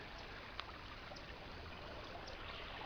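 Water flows through a small culvert into a trout stream, a steady close rushing trickle with a broad, even hiss and no pauses.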